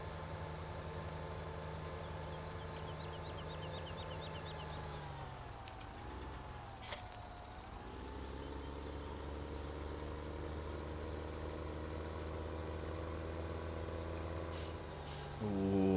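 A farm tractor is driven as it moves two seeders around a yard, with a steady loud engine drone throughout, a pitch dip as it slows midway, a sharp hiss near the middle and air-brake bursts at the end.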